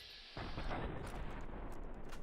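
Explosive weapon fire in the video game Fallout New Vegas: a sudden heavy boom kicks in and then rolls on as a dense, rumbling barrage of blasts, loud and sustained without a break.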